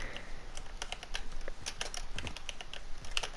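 Rapid clicking of computer keyboard keys, pressed continuously by a player during a game, with a steady patter of light taps close up and no talking.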